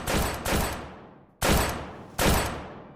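Steam tanks fire their cannons in Total War: Warhammer, four heavy booming blasts in two close pairs, each decaying slowly, loud with no talk.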